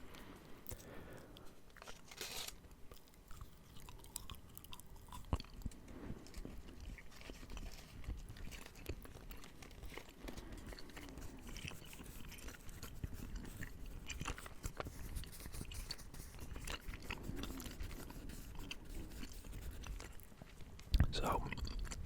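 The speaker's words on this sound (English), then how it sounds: "I am going to chew a little bit of gum here" Gum chewed close to the mic in a quiet ASMR setting: soft, steady wet smacks and crunchy clicks repeat in an even rhythm, faint and intimate, with occasional low whispering alongside.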